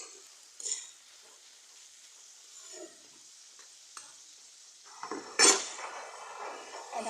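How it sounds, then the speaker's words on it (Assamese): Taro stems frying in a pan are stirred with a utensil, giving quiet scraping and soft sizzling with a few sharper clinks against the pan, the loudest scrape near the end. "এতিয়া লৰাই দিম।"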